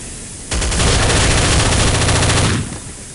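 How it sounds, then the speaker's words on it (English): Heavy machine gun in Counter-Strike: Condition Zero rattles off one loud, sustained burst of rapid automatic fire lasting about two seconds, starting abruptly and cutting off, with no talk over it. "That heavy machine gun is brutal, and a headshot machine."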